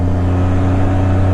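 Steady, loud engine drone from a Can-Am Spyder RT three-wheeled motorcycle, held at an even pitch throughout with no voices.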